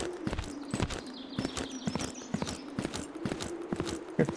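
Heavy hoofed steps of a boar stomping around in the video game Zero Sievert, a steady series of thudding clops close by over a faint ambient hum.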